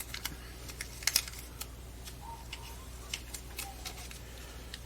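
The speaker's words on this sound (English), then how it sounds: "we're going to secure that with a little bit of tape" Faint crinkly clicks and short crackles of tape being handled and pressed down to hold a freshly glued puppet hand, scattered irregularly over a quiet background.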